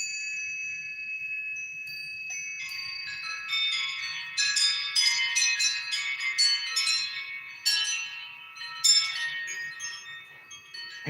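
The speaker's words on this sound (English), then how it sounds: "I got a new wind chime today." A new wind chime rings on its own, bright shimmering tones that pile up in irregular clusters, growing busier and louder midway, then settling into a steady sustained hum of overlapping notes.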